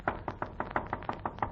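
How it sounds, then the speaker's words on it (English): A rapid run of about nine sharp, evenly spaced knocks on a wooden door in an old-time radio drama, close and crisp, with no talking. "somebody raps at my door"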